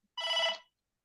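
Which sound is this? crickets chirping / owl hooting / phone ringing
phone ringing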